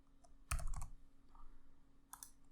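A burst of quick, quiet computer keyboard keystrokes as a password is typed, a short cluster of clicks followed by a pause and another brief flurry, close and soft with no talking.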